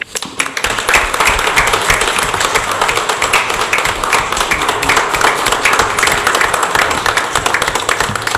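Applause at a town council meeting for the police officer of the year, a dense, steady crowd clapping that starts abruptly and holds at an even, fairly loud level throughout.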